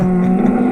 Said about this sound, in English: I have the cow sound